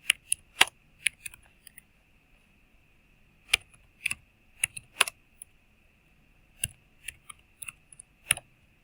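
Keys clatter on a computer keyboard as a command is typed, irregular bursts of close, crisp clicks with short pauses between groups over a faint steady hum.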